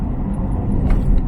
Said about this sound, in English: we're going along the A2 Duel Carriageway from Barham down to Whitfiled